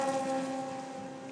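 Radical race car engines howl distantly through the forest at Spa-Francorchamps, a faint sustained tonal whine with wind-like noise, slowly fading, with no voices.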